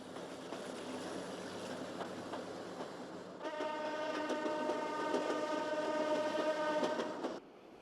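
A train pulls away uphill from Tua station on the narrow-gauge Tua line, with a steady rumble that swells into a loud, sustained horn blast of several harmonic tones, held for about four seconds before cutting off.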